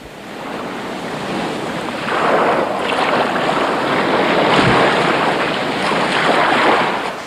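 Ocean waves and surf on the Indian Ocean coast, a steady roar of breaking water that swells louder after a couple of seconds, with crashing surges and wind rushing across the microphone.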